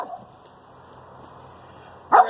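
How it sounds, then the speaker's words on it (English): A neighbor's dog gives a short bark at the start and a louder, sharper bark at the end, with faint quiet between, heard from nearby outdoors. "Got my neighbor's dog talking to me, telling me how to do this"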